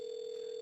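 A telephone line gives a steady, continuous electronic tone, loud and unbroken, with no voices.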